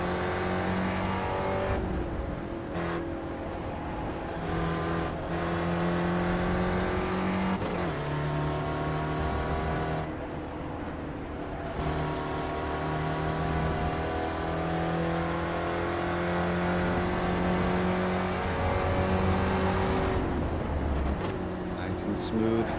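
A race car engine in the iRacing sim during a WeatherTech-style onboard chase screams continuously, revs rising and falling through gear changes, with a commentator talking over the loud, sustained drone.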